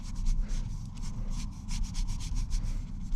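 Paint rubbed lightly onto canvas with a brush outdoors during a plein-air sunset painting, a steady run of close, brisk scrubbing strokes in a loose rhythm with no talking.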